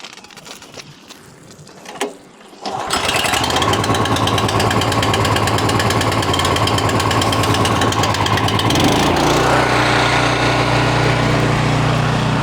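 A small gas engine on a pressure washer catches after being cranked and settles into a loud, steady, buzzing run close by, with a slight drop in pitch near the end and no talking.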